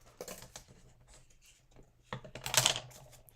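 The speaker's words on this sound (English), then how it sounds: "We're just going to cut it like that." Scissors cutting craft material for a spring DIY project: irregular small snips and scratchy rustles, close but quiet, ending in a brief louder burst of crisp cutting.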